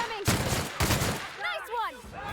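A big gun fires in The Outer Worlds video game: two loud, dense bursts of gunfire close together, followed by warbling, sweeping tonal sounds.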